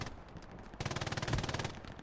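Rapid machine-gun bursts in a competitive World War II-style shooter match, starting abruptly and running as a close, loud stream of evenly spaced shots with no talk over it.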